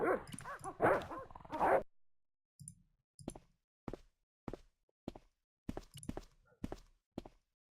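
Dogs in the Broken Sword: Shadows of the Templars Director's Cut game bark and whimper in a string of short, sharp yips and bow-wows at close range, following a brief burst of louder noise at the start.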